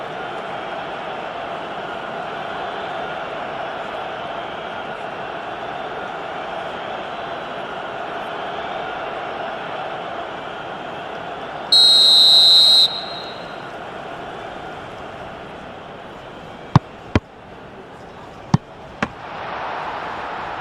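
Continuous stadium crowd roar in the football video game PES 2021, a steady dense murmur throughout, with a brief referee whistle blast near the middle and a few sharp clicks toward the end.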